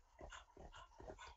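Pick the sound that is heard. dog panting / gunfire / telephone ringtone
dog panting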